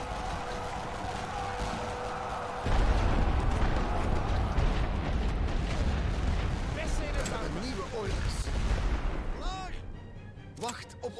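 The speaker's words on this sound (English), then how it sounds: "We got some artillery hitting their guys coming in." Artillery shells landing in the World War I strategy game The Great War: Western Front, heavy booms and rumbling blasts layered with crackling gunfire, with a voice talking over the battle.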